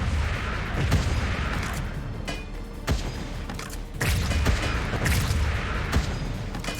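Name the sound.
gunfire from the video game Wall World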